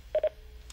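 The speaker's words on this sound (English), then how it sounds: "would you also press the login key on your phone?" Two quick beeps sound in close succession as keys are pressed on an office desk phone, followed by a fainter tone near the end. All are short and crisp against a quiet background, with no talking.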